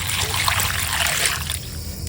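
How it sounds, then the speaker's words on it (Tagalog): Tap water runs and trickles steadily while carrots and chayote are washed, close and fairly loud, and the flow changes briefly near the end as the vegetables are moved under the stream. "Hugasan ko na rin po itong carrots."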